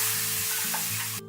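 Milk goes into a butter and flour roux in a hot pan, giving a brief, quiet sizzle and bubbling with light stirring, then a short drop-off at the end.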